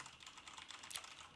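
Quiet, rapid typing on a Corsair K70 mechanical keyboard with MX Red switches, a continuous patter of soft key clicks with one slightly louder keystroke, heard alone at a low level.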